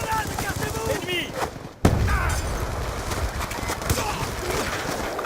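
Rapid gunfire in a Call of Duty Black Ops 2 multiplayer match, dense bursts and scattered shots with one sharp loud report partway through, among other game effects.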